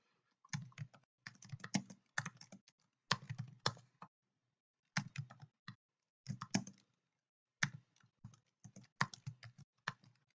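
Irregular bursts of keystrokes on a computer keyboard, clicking in quick clusters separated by brief pauses, close and clear with no other sound.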